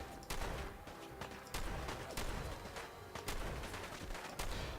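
Rapid bursts of combat gunfire in the video game Fallout, fighting super mutants, loud and close with repeated sharp shots and volleys in irregular clusters.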